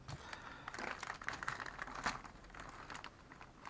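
A plastic bag of Airfix Junkers Ju 87 Stuka model kit parts is cut open with a scalpel, giving faint close crinkling and rustling with a few sharper crackles.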